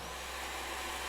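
A steady, airy vacuum whir comes from a robo-maid in Genshin Impact and holds level the whole time, with nobody speaking over it.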